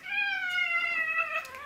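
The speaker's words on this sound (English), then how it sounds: "we have a cat as well. This is Trolly." A pet cat named Trolly lets out one long, drawn-out meow, clear and close, holding steady before tailing off, with no voices over it.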